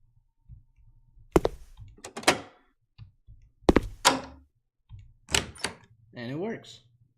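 A video game door opens with a set of sharp thunks and clicks plus a short whirring mechanical sweep near the end, all close and distinct, with brief speech between the bursts.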